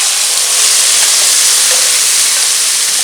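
Ajwain (omavalli) thokku hits a hot pan over a lowered flame, giving a loud, dense, continuous hissing sizzle, close and without speech.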